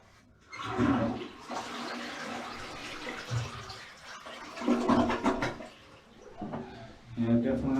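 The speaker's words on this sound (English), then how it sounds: "definitely not getting a good flush on it" A clogged toilet flushes weakly in a bathroom, with rushing, gurgling water rising and falling in surges across several seconds, close and moderately loud, while people talk over the noise.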